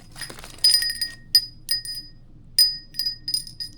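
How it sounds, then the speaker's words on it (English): A glass wind chime on a back deck tinkles in bright, ringing clinks that come in small clusters with short quiet gaps and die away quickly. "I love wind chimes."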